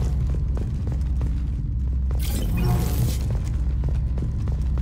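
A heavy weapon fires in Mass Effect 2 against a low rumbling background, one loud explosive burst with crackling debris that lasts about a second, amid ongoing combat noise.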